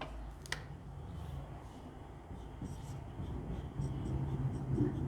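Marker or chalk writing a topic heading on a classroom board for a differential equations lesson, soft scratchy strokes and taps close by, with low background hum.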